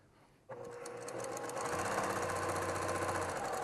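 A sewing machine starts up and stitches quilt fabric in a steady, loud, continuous run, motor hum and rapid needle clatter sustained after a quiet start, with no talking.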